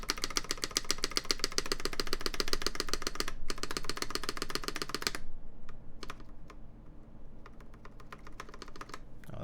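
Typing on an LZ CLS custom mechanical keyboard, rapid dense clacky keystrokes close up, then after a pause a sparser scattering of single test-key presses, no voices.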